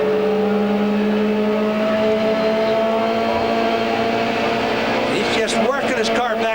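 Race car engine at the 1995 Michigan 500 droning steadily, with sweeping pitch changes near the end as the car works back and forth, under continuous race commentary.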